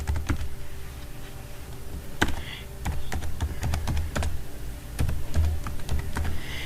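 An email being typed on a computer keyboard, a close, steady patter of individual key clicks with short pauses and a few louder taps, no voices.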